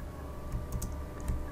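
Several quick, light clicks from a computer keyboard and mouse, scattered irregularly over a quiet background hum, close and fairly soft.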